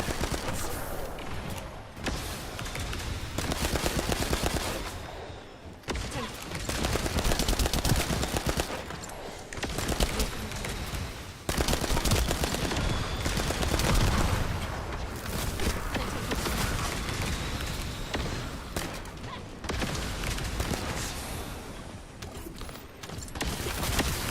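Gunfire in the video game The First Descendant, with dense, continuous bursts of shots broken by a few brief pauses and footsteps mixed in.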